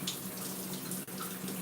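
Water running steadily in a shower, a continuous close hiss of flowing spray with only a brief dip in the middle.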